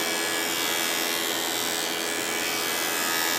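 A GEREFET pet grooming vacuum clipper shaves a cat's matted fur with a steady, close, loud electric whir and hiss. It runs without pause, with no voices.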